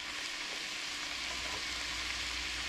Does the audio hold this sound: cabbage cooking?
yes